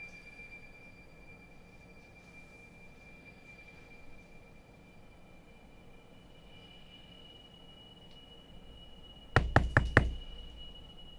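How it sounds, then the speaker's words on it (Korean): A quick burst of about four sharp knocks on a door sounds late, loud and close, after a long stretch of quiet, faintly humming room tone. "누군가 또 문을 두드렸습니다."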